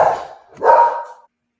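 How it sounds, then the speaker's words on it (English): A dog startled by a UPS delivery driver bringing a package to the door barks twice, loud and close, with a short gap between the two sharp barks. "My dog just got startled by a UPS driver who was bringing a package to our door"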